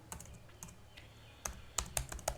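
Code typed on a computer keyboard, sparse close key clicks that quicken into a short cluster of sharper taps over a faint hum.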